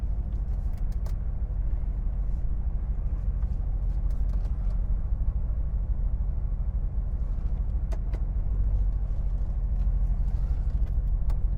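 Car slowly backing out of a parking spot, with a steady low engine rumble and faint road noise throughout and occasional light clicks and knocks from inside the cabin.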